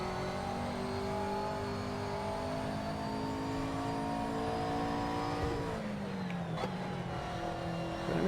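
A GT3 race car in the racing game Assetto Corsa Competizione revs hard with a loud, close engine note, holding high through a long pull before dropping on a downshift and climbing again.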